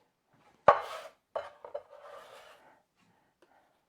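Onion being chopped with a Mac chef's knife on a cutting board: one sharp thunk, then a few lighter cuts and a soft scraping slice, close and otherwise quiet.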